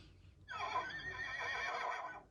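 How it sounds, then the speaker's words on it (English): A Toy Story Bullseye toy horse lets out a single loud electronic neigh that lasts about two seconds and rises and falls like a whinny, recorded up close with no talking. "He also makes some horse noises."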